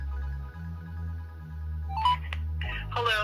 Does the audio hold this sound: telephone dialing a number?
yes